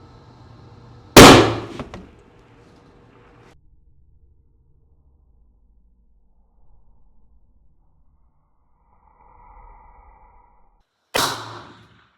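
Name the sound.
long range hunting rifle shot and bullet impact at 700 yards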